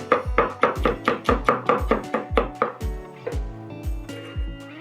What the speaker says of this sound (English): So I'm just going to give them a rough chop.